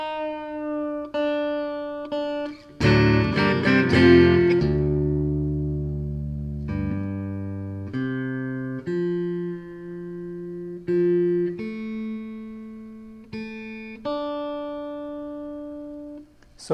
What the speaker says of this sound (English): Then we take the E string and tune it down to D.